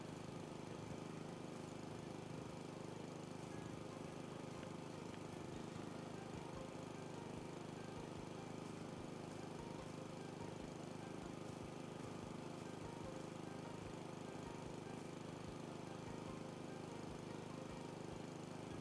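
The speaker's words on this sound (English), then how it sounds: "I wondered if the lawnmower would take out weeds as well." A lawnmower cutting grass and weeds in the video game House Flipper 2, a continuous steady engine drone that stays even and moderately loud throughout, with no talk.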